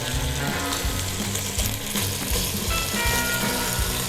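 Celery and onions rendering in bacon fat in a pan, giving a continuous close sizzle and crackle with no talking.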